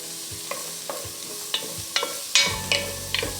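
Vegetables sizzle in melted butter in a pot, a steady frying hiss broken by clinking stirs and scrapes that come roughly every half second, close and moderately loud, with the sizzle growing as more vegetables go in.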